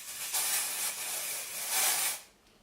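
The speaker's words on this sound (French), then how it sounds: "vous venez vraiment pulvériser sur vos cheveux à environ 30 cm" Batiste dry shampoo hisses out of an aerosol can onto hair in a steady, close spray, with a brief dip partway through before a final burst that tails off.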